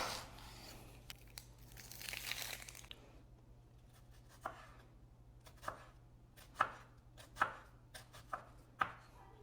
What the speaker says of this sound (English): You need to slice your red onion as thin as possible.